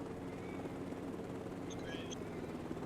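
A helicopter in a cattle co-op simulator video game, a continuous, low rotor drone with a steady whirring hum, with faint chatter over it.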